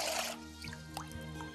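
A medieval chante-pleurs water vessel being filled, first a rush of pouring water, then small scattered drips and faint chiming tones ringing out alone.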